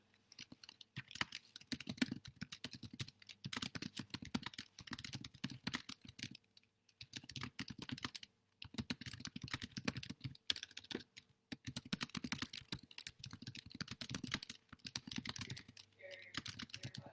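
Steady typing on a computer keyboard, with dense bursts of key clicks broken by brief pauses, fairly close and continuous with no talk.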